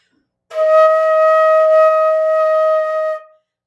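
A single clear flute E flat held steadily for nearly three seconds, played alone and fairly loud, then released cleanly.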